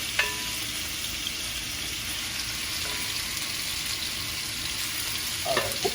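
Chicken pieces for a Jamaican cabbage and chicken dish sizzle in a non-stick pan. The hiss is steady and close, with faint clinks and a brief stir near the end.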